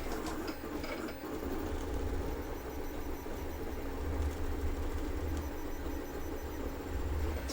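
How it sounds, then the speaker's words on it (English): A 3D printer runs close by with a steady mechanical whir and rhythmic stepper-motor buzzing, carrying on without a break and with no voices. "let's check in one last time on the 3D printer"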